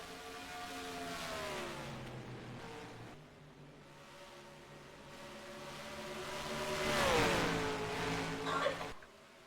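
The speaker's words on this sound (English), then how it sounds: "cars kind of starting to move up the track now" Stock car engines drone in NASCAR Racing 2003 as the field moves up the track, rising and falling in pitch as cars pass, under a commentator's voice.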